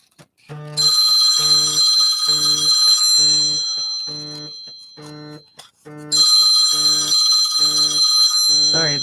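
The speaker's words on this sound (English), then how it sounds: "I'm ignoring that phone call." A phone rings with an incoming call in a quiet crafting space: loud, rapid bell-like trills in a steady repeating pattern, briefly pausing before ringing again.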